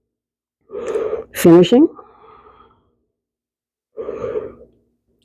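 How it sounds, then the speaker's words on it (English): Audible breaths during a yoga session for the abs, two separated bursts of breathing with a gasp-like inhale, close and moderately loud, with a brief spoken word between them. "Inhale up, exhale down."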